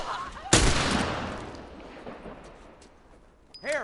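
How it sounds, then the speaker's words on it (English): A single sharp gunshot from the video game The Last of Us cracks loudly, then echoes and decays over a few seconds, followed by a brief electronic chirp and a faint bit of game sound. "Okay, I have to shoot her."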